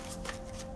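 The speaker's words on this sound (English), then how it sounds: "I feel like I want to shuffle some more cards" Tarot cards being shuffled by hand, a steady close riffling and sliding of card stock lasting under a second with no voices.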